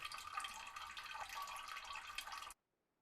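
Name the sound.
getting water in a base-building video game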